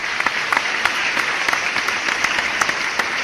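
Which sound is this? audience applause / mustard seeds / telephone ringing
audience applause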